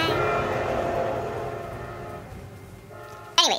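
A train rolls by with a steady rumbling drone that gradually fades, followed by a sudden brief loud horn-like blast at the end; a voice speaks faintly over the start.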